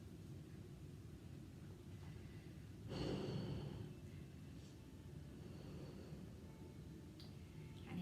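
A single deep breath drawn in and let out during a wall yoga pose, close and soft, rising briefly over a steady low hum of room noise.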